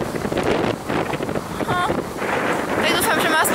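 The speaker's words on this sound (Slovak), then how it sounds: "Tak dúfam, že ma aspoň trošku počujete cez ten vietor." Outdoor wind buffeting a microphone, a loud continuous rumbling roar that never lets up, with a person talking underneath it.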